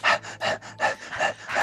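A woman pants hard and out of breath, taking six quick, rhythmic breaths close to the microphone. Nobody speaks.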